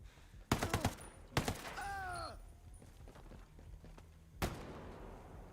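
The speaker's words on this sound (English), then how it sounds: "Did you just shoot at me?" Gunfire in Ghost Recon Breakpoint: sharp loud bursts of several quick shots, a second burst followed by a falling mechanical whine, then a single later crack amid quiet game ambience.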